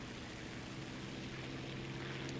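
A propeller fighter plane's engine drones steadily in a War Thunder air battle, a constant low hum with no breaks and no talking.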